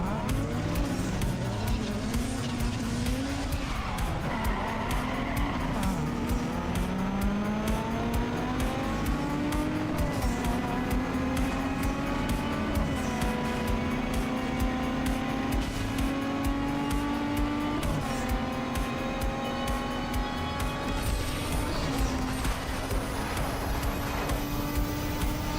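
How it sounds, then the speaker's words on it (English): Race cars scream through a drag race, engines climbing in pitch through repeated upshifts over a sustained, loud roar with brief tire noise, close and continuous for the whole stretch. "It's a drag race."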